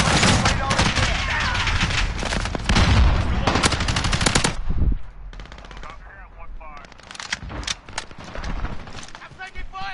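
Loud, dense bursts of automatic fire and single shots from Call of Duty beta gameplay fill the first half, then thin into scattered shots and mechanical clatter, with game voices speaking over the action.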